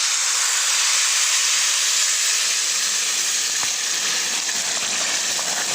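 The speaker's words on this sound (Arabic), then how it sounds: "كده هنزل بقى بالميه بالكركم اللي انا حطاها على النار تسخن" Turmeric-tinted water hits a hot pan of rice with raisins and fava beans, releasing a loud, steady broadband hiss of steam that holds throughout with slight fluctuations and no voices.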